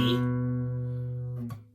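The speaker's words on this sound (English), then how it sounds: "It's a B note on the A string." A single plucked guitar note, B on the A string at the second fret, rings and slowly fades, followed by a short pick scrape near the end.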